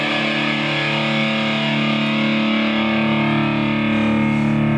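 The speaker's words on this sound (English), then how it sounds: "now this is my guitar in drop D flat" Electric guitar tuned to drop D flat through a Line 6 POD on a distorted setting, playing a sustained, heavily saturated chord that rings loud and steady throughout with no talking.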